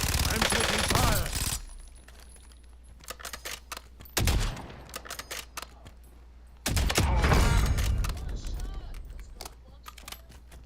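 Automatic weapon fire in the Call of Duty Warzone video game, with loud sustained bursts at the start and again midway and sparser shots in between, while a voice speaks over the action.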